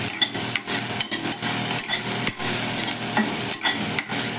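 Okra (vendakkai) is stirred in a hot pan with a steady sizzle beneath it, and a spoon scrapes the pan in repeated quick strokes, close and fairly loud, with no voices.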